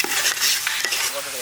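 Biryani being stirred in a cooking pot, with a ladle scraping and clanking against the metal in several strokes over a continuous sizzling hiss.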